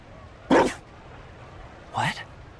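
A dog in the video game Dragon Age: Inquisition, Trespasser DLC, gives two short, fairly loud barks spaced over a second apart against a quiet, faintly humming background.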